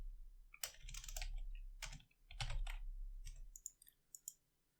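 Bursts of typing on a computer keyboard, quick clusters of key clicks with short pauses between them, close and clear over a faint low hum.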